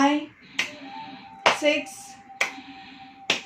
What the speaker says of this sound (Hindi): ताली बजाना हमेशा बहुत एनर्जी से भर देता है